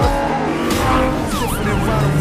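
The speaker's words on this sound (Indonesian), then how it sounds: "Terlihat dia sedang kebut-kebutan mengendarai mobil Lamborghini di jalanan kota dan mampu mengelabui para polisi yang mengejarnya." A Lamborghini races through city streets in an action film chase, engine roaring loud and close with a brief tire squeal and whooshing, swept sound effects layered over it.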